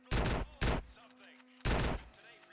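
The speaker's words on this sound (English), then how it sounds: "they are shooting really fast" Three loud bursts of rapid gunfire from GTA San Andreas come in quick succession, each a dense crackling volley, with quieter game sounds between them.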